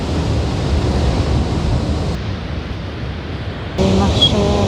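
Atlantic surf breaks on the rocky Iberian coast, a steady roar of waves close by mixed with wind buffeting the microphone, growing louder toward the end.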